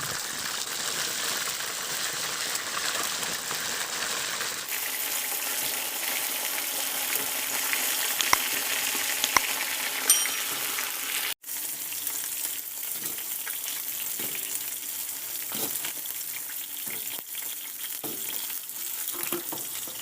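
Chicken wings sizzle and crackle in hot oil in a pan, a steady loud frying hiss with scattered pops and a brief drop partway through.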